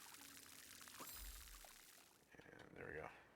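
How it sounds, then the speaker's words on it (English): A short pouring splash as seeds are watered in the video game Grow: Song of the Evertree, fairly quiet and brief, with a person talking around it. "Plant some seeds and water it."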